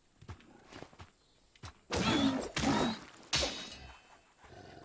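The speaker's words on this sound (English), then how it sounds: "There's some stompy boy around here." Heavy, stomping footsteps from a large creature in the game Kristala, with three loud, booming thuds close by, scattered lighter knocks and taps between them, and no voices.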